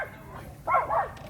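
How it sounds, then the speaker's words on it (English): Dogs going after each other produce a short burst of yips and whining growls, two quick rising-and-falling cries over a low background hum. "lose track of the dogs going after each other"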